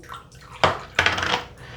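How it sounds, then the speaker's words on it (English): An Ariana & Evans shaving soap is worked into a lather with a wet brush, giving two loud, close, splashy swishing bursts separated by a short pause, with no talking. "let's make some lather, shall we?"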